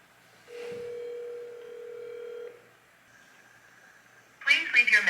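An outgoing phone call rings through a handset as a single steady tone lasting about two seconds, followed by quiet line noise and then a recorded voice speaking.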